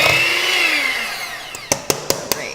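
Electric hand or stand mixer whirring as a cup of flour is beaten into buttery crumble crust dough for apple crumble bars, a steady close motor drone that ends, followed by four sharp knocks.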